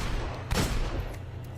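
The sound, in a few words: hand cannon gunfire in the video game Destiny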